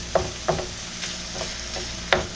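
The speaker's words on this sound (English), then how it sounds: "You're just going to start cooking up your ground beef, ground meat" Ground beef fries in a pan with a low steady sizzle, broken by several sharp scrapes and clacks of a utensil stirring the meat at irregular intervals, close by and with no talking.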